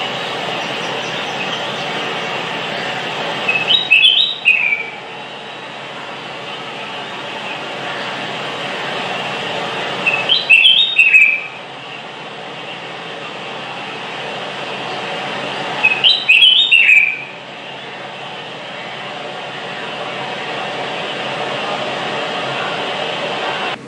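A bulbul gives three brief bursts of chirping calls, spaced roughly six seconds apart, heard clearly over a constant low background hum.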